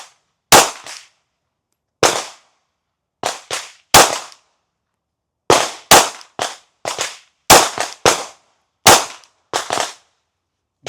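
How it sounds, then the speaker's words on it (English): Pistol shots from a Smith & Wesson Bodyguard 2.0 fired at a target 5 yards away, sharp loud cracks in an irregular string with short gaps, some in quick pairs, each decaying quickly into silence. "those 5 shots that I just took from 5 yards"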